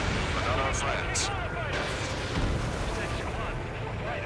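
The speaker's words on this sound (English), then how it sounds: "Howitzer." Howitzer artillery fire in the combat game Ace Combat 7 makes a continuous heavy, rumbling roar with dull booms blended into a dense battle din, alongside brief high-pitched whines.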